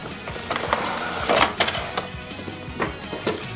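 Display cabinet doors on a collectible figure showcase are opened and lifted off, giving a string of close wooden knocks, clacks and scrapes in an irregular rhythm over faint room noise.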